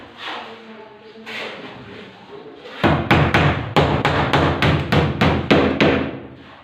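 A hammer drives nails through plywood while a ceiling is being fastened, giving a rapid run of about a dozen loud, sharp blows after a stretch of quieter noise and talk.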